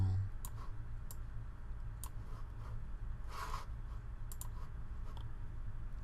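A computer mouse clicks a Compute button, making several faint, sharp clicks spread out over a quiet background with no one talking.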